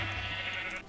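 A single drawn-out bleat from a Minecraft sheep, close and clear, lasting under a second before cutting off.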